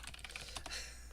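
Rapid typing on a computer keyboard, a quick run of light, close key clicks lasting about a second, with no voices over it.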